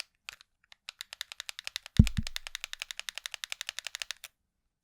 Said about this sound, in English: This is the original Pro controller, me moving the control stick in the microphone.